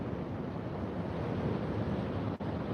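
Sea waves break against the bottom of coastal rocks in a steady, distant roar, mixed with gusty wind buffeting the microphone.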